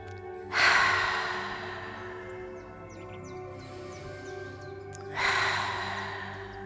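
Two deep, drawn-out breaths during a yoga session in a park, each a broad rushing exhale about a second apart from the next, close and fairly loud, with faint birdsong and steady low background hum between them.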